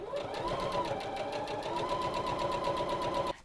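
A sewing machine runs steadily, stitching folded fabric through a fast, even mechanical whir held loud and close for about three seconds before stopping abruptly.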